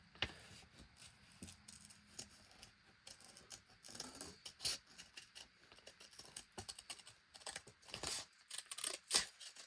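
Sharp scissor snips trimming fussy-cut paper stickers, a run of small irregular clicks and crisp cuts close up, quiet and without talk.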